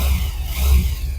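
A Bajaj Pulsar 150cc BS4 motorcycle engine, partly reassembled during repair, is revved with the throttle in short pulses, a close, low throbbing roar swelling and easing twice within about a second.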